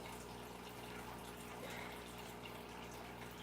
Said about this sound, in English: The fake, horrible, bubbling clam.